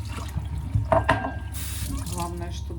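Tap water runs steadily from a faucet in an Odesa home after the supply is restored, a continuous close splashing stream with a faint voice briefly in the background.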